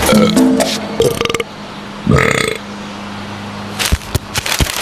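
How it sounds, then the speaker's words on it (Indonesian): A burp in a television commercial, short and guttural, standing out among other clattering sounds and background noise. No voices are heard. "Sendawa dan perut kembung."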